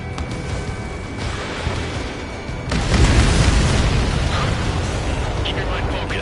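An enemy transport explodes in a PS4 game: a rumbling background suddenly swells into a loud, sustained booming roar of blast and debris that keeps going to the end, with voices mixed in.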